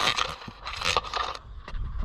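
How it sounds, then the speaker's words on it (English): Harsh, gritty grinding against the glass of a replacement headlight, loud and close, running continuously with uneven surges and scraping bursts and no talk over it. "we're gonna have to grind on the glass"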